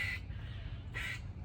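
A squirrel calls twice, each a short, harsh, squawking chirp separated by a pause of nearly a second, fairly faint outdoors over a steady low background rumble.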